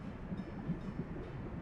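Fuel train rolling along the tracks in the Soviet-era management game Workers & Resources: Soviet Republic, a steady low rumble with faint rhythmic wheel clatter that stays even throughout.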